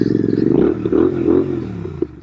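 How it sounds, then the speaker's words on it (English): A custom Royal Enfield Interceptor 650 parallel-twin motorcycle fitted with a belt drive kit runs at a steady idle nearby, its deep, even rumble carrying on with slight swells and no voices. "Boy, this is one of the best sounding Interceptors out there."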